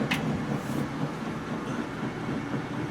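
Washing machines run loudly in a laundromat, making a steady, dense mechanical rumble that fills the space without pause, with a brief higher whoosh near the start.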